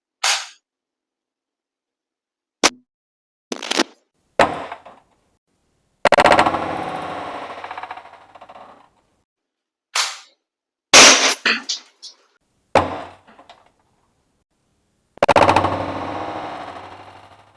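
An Umarex HDR 68 revolver fires indoors at exploding targets in a kitchen, a scattered series of sharp, loud reports and bursts separated by silences, some followed by longer ringing crashes and rattling debris.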